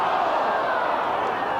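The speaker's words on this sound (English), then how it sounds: "Crowd coming alight" A 1991 Port versus Sturt Australian football crowd roars in a steady, loud, dense wash of massed voices that rises and holds without a break.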